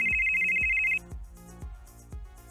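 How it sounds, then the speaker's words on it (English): A telephone rings with a steady electronic tone for about a second, then gives way to rhythmic low thumping beats under music, in a Shadowrun tabletop actual-play session. "Phone rings a few times."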